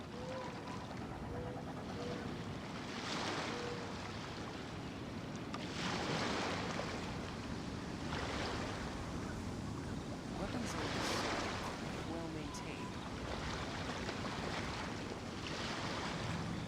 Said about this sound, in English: The waves are as calm as always.